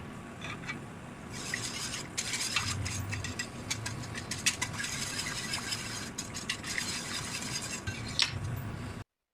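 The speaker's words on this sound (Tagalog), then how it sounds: "Tapos mix lang natin yan." A utensil scrapes and clinks against a pan while a flour mixture is stirred over low heat, with irregular metallic taps and rubbing over a low steady hum, close and fairly quiet, and no talking.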